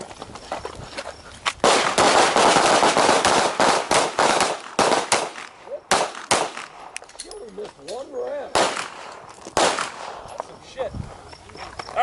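Handguns fire on a shooting range in rapid, loud, sharp overlapping volleys from several shooters, which then thin out into scattered single shots, with voices speaking between them.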